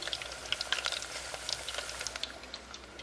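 Beef empanadas fry in hot oil with a dense, continuous sizzle and crackle full of fine pops, close and steady throughout with no voices.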